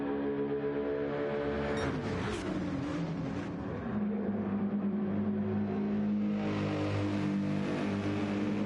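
Ferrari and Mercedes racing cars at Monza in a racing video game, their engines giving a continuous loud whine that holds steady and shifts in pitch partway through as the cars run down the track.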